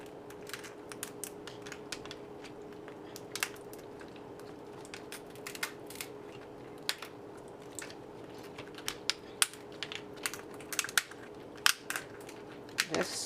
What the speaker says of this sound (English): I'm going to cut down the middle like this and slowly open it